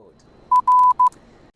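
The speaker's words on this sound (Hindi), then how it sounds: "एक छोटी बीप, एक लंबी बीप और वापस से एक छोटी बीप।" Three electronic tone beeps spelling Morse code R, short, long, short, clean and close against near silence.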